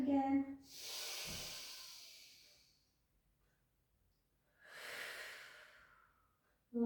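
Two slow, deep breaths taken during a stretching session for shoulders, hips, lower back and neck: a long airy inhale followed by a quiet pause, then a softer exhale, close and clear with brief voice fragments at the edges.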